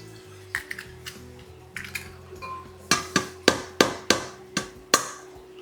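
Five eggs cracked one after another against the rim of a stainless steel bowl: a couple of faint taps, then a quick run of sharp, close, bright clicks with short ringing tails, and no talking.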